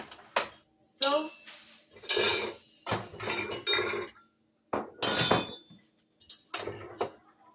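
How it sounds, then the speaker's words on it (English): A mixing bowl is cleaned during Christmas cookie baking, with a series of sharp clinks and clatters of utensil against bowl in irregular bursts separated by brief quiet gaps, and some talking mixed in. "let me clean the bowl and then we are going to continue"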